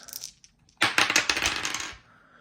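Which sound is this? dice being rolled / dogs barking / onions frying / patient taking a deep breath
dice being rolled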